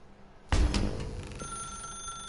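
An old-style telephone bell in The Stanley Parable rings once, sharp and loud, with a metallic clatter at onset that decays into a sustained ringing tone, with no voices.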